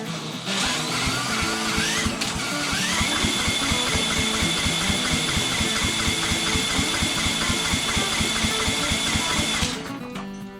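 A Briggs and Stratton V-twin engine from a Cub Cadet is spun over by a DeWalt cordless drill set to its first speed. A steady, loud mechanical churning and whirring runs for about ten seconds, then cuts off.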